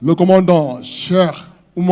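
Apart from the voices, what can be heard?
None of the usual background noises is heard.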